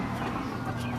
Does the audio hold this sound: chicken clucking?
yes